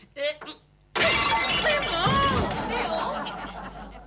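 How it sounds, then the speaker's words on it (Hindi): Glass pane shattering loudly and abruptly while being fitted at home, a sharp crash followed by a sustained scatter of breaking shards, with brief voices before the break and chatter continuing over the noise. "एक कांच फिट करने के चक्कर में मैंने तीसरा भी तोड़ दिया"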